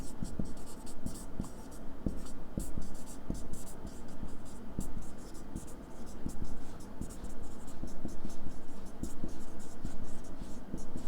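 A pen scratches steadily across paper while a line is written, a continuous rapid scribbling texture with faint background murmur.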